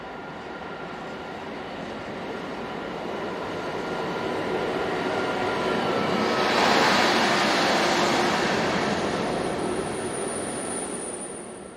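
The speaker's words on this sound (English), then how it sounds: "A rarity in these parts is Belgian Class 12 locomotive number 1212, seen heading for Saint-Marc Yard" Belgian Class 12 locomotive 1212 rumbling past with a long freight train on its way to a yard, a steady broad roar that swells in the middle and then eases off, with no voices.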